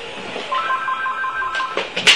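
A telephone rings indoors with a warbling electronic tone and a steady repeated trill, fairly close and moderately loud, ending in a sharper burst.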